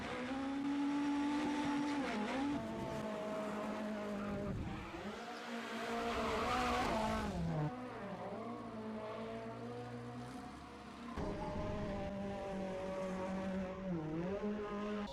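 Ken Block's 650 bhp Ford Fiesta ST rally car drives hard, engine revving loudly and rising and falling through shifts, with tyre squeal and skidding, close and alone without speech.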